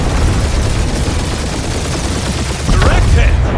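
Dense, continuous gunfire from the video game Marvel's Guardians of the Galaxy rattles through the whole stretch in rapid overlapping bursts, loud and close, with a brief swell of extra shots near the end.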